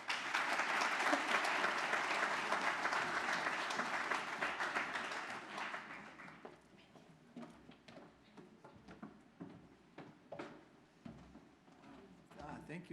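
Applause from an audience at a 2023 graduation ceremony welcoming Professor Aaron Hughes, dense and steady for about six seconds before thinning into scattered claps as it dies away.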